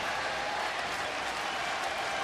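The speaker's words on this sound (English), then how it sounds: "Big crowd standing for Pettitte." A baseball crowd at Minute Maid Park stands and applauds Andy Pettitte in his final game, a steady far-off wash of clapping and cheering throughout.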